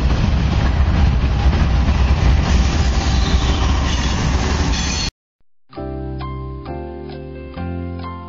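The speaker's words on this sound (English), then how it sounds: "I'll give you a shot of the train coming through" A train passes on tracks right beside a backyard homestead, loud rumble and clatter for about five seconds, then a short silence before a different sustained tonal sound with shifting notes.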